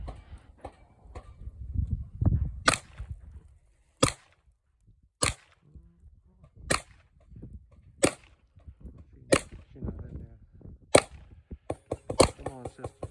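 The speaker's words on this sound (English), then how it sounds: "Now that last person shooting, that was me" Sharp, loud gunshots at a shooting range, about nine evenly spaced single cracks with quiet gaps between, some low rumbling movement and faint voices early on.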